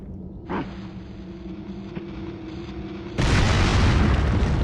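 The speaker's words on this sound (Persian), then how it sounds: "اونو زد اینم ترکید" A video game explosion bursts in suddenly as a loud, broad roar after a quieter stretch of ambient hum, sustaining to the end with no talking.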